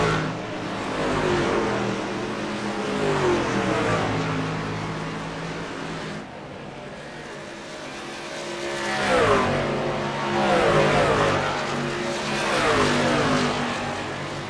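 Race trucks from the iRacing truck series at Nashville drone steadily, with engine notes rising and falling as they run in traffic and sweep past. The sound is a continuous roar with no talk.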